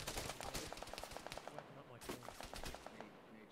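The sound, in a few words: gunshots in the video game ARMA 3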